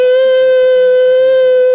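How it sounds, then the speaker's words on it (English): A harsh, urgent siren sounds from an airport computer terminal: one loud, sustained, steady tone with bright overtones that carries on unbroken with nothing else heard. "It was a harsh, urgent, double-toned siren that echoed from the computer terminal"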